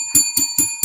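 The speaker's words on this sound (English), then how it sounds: "Let's ring the bell for Terry being the head of security." A bicycle-style bell rung four times in quick, even succession, each ring bright and sustained, close and loud with no talk over it.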